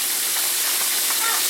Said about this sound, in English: So I'm just gonna let them continue to fry